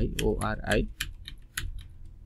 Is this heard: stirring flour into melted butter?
no